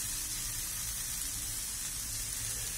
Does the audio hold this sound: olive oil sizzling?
yes